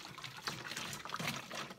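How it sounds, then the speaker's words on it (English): Molasses dissolved in water trickles and splashes softly into a homemade plant-based fertilizer for succulents, a brief quiet pour with small gurgling bursts. "I just dissolved this molasses with a little bit of water, and I'm gonna add that in."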